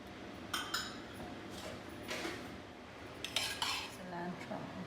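Spoons and forks being set out for a homemade paratha breakfast, with scattered light metallic clinks and clatters over a steady low room background.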